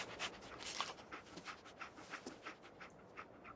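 Dogmeat, the dog companion in Fallout 4, pants quietly in quick, steady breaths, close and alone with no talk over it.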